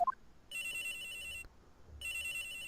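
Electronic phone ringtone from the game Phoenix Wright: Trials & Tribulations, two clear bursts of bright trilling rings separated by a short pause, heard alone with no talk.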